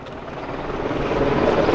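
A helicopter flying overhead at a street protest, heard as a steady, building rotor and engine roar that grows louder over the short stretch, with no speech.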